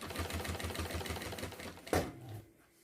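A sewing machine topstitches a seam on a retro-style backpack, making a fast, even mechanical chatter for about two seconds before it stops and fades out.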